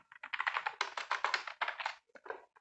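Rapid typing on a computer keyboard while writing PHP code, a close, brisk run of clicking keystrokes in quick bursts with a brief pause near the end.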